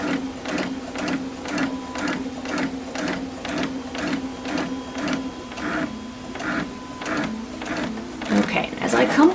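A sewing machine stitches a cloth face mask with a filter pocket, a steady fast rhythmic clatter running throughout, close by, with a voice talking over it.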